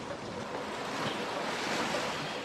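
Meltwater rushes and roars as a dense, continuous torrent flowing down toward the Colorado River, loud and steady without a break.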